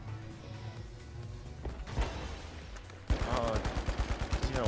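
FCAR gunfire in the video game The Finals, heard first as scattered distant shots under game ambience, then as a close, rapid automatic burst of evenly spaced loud cracks.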